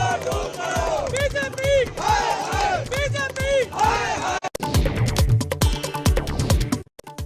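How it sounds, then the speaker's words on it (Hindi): A large crowd of Aam Aadmi Party workers protesting outside the party office in Delhi over MCD elections, with loud rhythmic chanting and shouting slogans, close and energetic, then denser overlapping roar of voices. "दिल्ली में आम आदमी पार्टी के दफ्तर पर कार्यकर्ताओं की भारी भीड़।"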